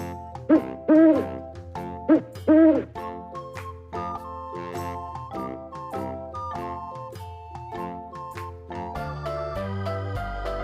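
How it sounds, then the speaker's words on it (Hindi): A cartoon owl's hoot rings out in a few short rounded calls over a bright, tinkling children's alphabet-song backing, with the music carrying on steadily after the hoots. "O for owl. आउल माने उल्लू।"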